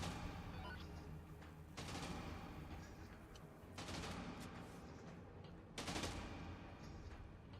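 Gunfire in the zombie game Dead Rising 2 comes in three sharp bursts spaced about two seconds apart, each a loud broadband crack fading into a noisy background.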